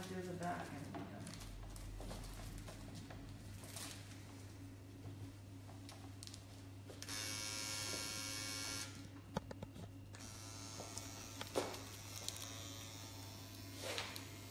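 A scalp micropigmentation machine fitted with a single needle buzzes close by as a steady electric hum under ongoing conversation, with a brighter, louder buzzing stretch partway through.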